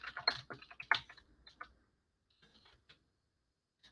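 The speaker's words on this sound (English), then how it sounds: "I'm just typing in the words that we need to include." Someone typing on a computer keyboard: quick clusters of light key clicks early on, then a few sparse, faint taps trailing off into near silence.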